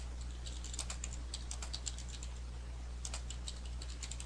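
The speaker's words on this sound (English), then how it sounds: "So you can type anywhere you would like in the note." Keys clatter in steady bursts of typing on a computer keyboard while entering notes into medical record software, with brief pauses between runs over a constant low hum.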